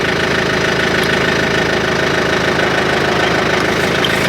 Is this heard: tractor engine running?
yes